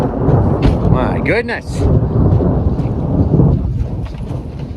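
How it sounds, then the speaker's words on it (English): Thunder from nearby lightning strikes rolls as a low, loud rumble through a storm, mixed with wind buffeting the microphone, while people talk excitedly over it. "close lightning strikes"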